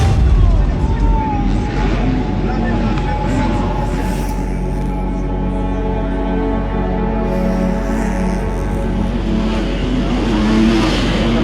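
Racing motorcycles roar around a track, with a sustained loud engine drone and rising revs throughout, punctuated by sharper impacts near the start and end that suit a crash.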